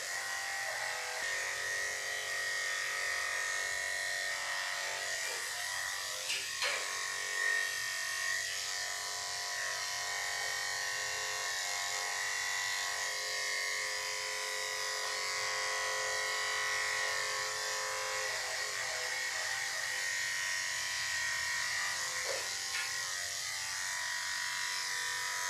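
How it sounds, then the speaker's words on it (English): Electric clippers buzz steadily and close up while shaving a dog's cheeks and muzzle during grooming, a continuous motor hum with slight shifts in pitch as the blade moves through the hair. "I'll shave with the hair on her cheeks, and I'll shave it underneath"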